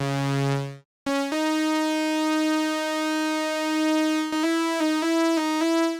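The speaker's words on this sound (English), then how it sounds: "I think I used the chorus lead preset on the Mini V3, and it sounds like this, just one note." Arturia Mini V3 software synth on a chorus lead preset: after a brief different tone and a short gap, a single D sharp note sustains with a bright, buzzy harmonic tone, briefly retriggered several times near the end.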